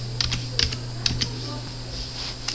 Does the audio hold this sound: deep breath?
no